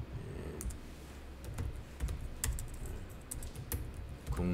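Typing on a computer keyboard sounds close and clear as a quick, uneven run of clicking keystrokes with a few louder key hits, and no voice is heard.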